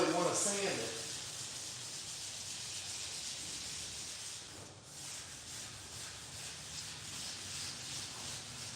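Wet sanding on the body of a Butcher Dart car, a steady broadband rubbing hiss that runs close and continuous with one brief dip midway, no voices.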